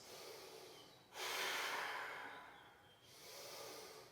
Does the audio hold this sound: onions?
no